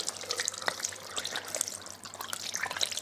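Tap water trickles and splashes into a sink as hands are rinsed under it, a soft, irregular dribble with a faint steady hum underneath and no speech.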